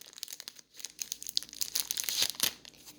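Pokémon card packs are torn open, foil wrappers crinkling and ripping in close, busy bursts that build to a louder tearing near the end.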